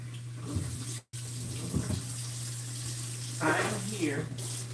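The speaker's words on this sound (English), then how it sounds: "I'm just cleaning up my sink, cleaning out my sink" Tap water runs steadily into a kitchen sink during cleanup, a soft continuous flow with faint clatter and brief speech over it.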